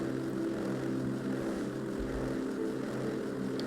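A rocket upper stage with a Centaur engine fires its escape burn from Kerbin in Kerbal Space Program, giving a steady, loud, unbroken roar that holds from start to finish.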